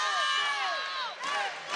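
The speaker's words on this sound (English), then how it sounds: "the Hawaii crowd getting into it right behind us here courtside" Hawaii home crowd at a college men's volleyball match courtside, a dense roar of cheering with high whoops and shrieks rising and falling, loud and sustained throughout.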